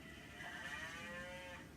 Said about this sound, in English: So as you can hear, this one is a cow.